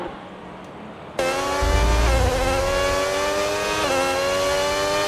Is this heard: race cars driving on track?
yes